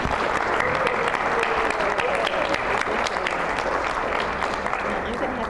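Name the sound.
audience applause welcoming a presenter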